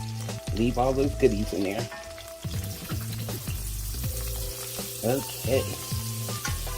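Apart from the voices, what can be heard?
butter sizzling in a pan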